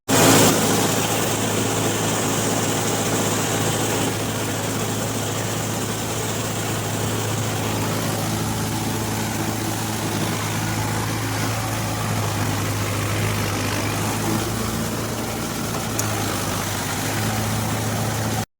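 A Mahindra Yuvo Tech Plus 585 DI 4WD tractor engine runs steadily while the tractor works a muddy field, giving a continuous low, even drone for the whole stretch with no voices.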